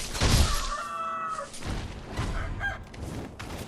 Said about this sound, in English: some beautiful chickens.